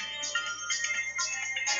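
An alarm tone rings on a phone, a repeating bright electronic chime pattern that pulses about every half second, steady and moderately loud with no talk over it.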